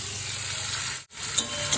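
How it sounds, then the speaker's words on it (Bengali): Nigella seeds, dried chili, onion and tomato sizzle loudly in hot oil, a dense close frying hiss broken by a brief gap and a few sharp spatters. "একটু কালো জিরা শুকনো লঙ্কা ফোড়ন দিয়ে দিই, আর পেঁয়াজ টমেটো লঙ্কা একসাথে দিয়ে দিই"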